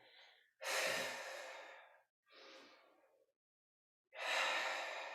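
Heavy breathing during a yoga strength flow with weights, several loud, close exhales and inhales separated by brief silences, no talking.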